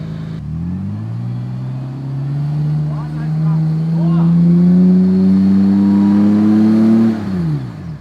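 A Toyota Landcruiser 4WD engine revs hard as it climbs an offroad track near Coffs Harbour, a loud close drone rising steadily in pitch for several seconds before easing off, with no voices over it.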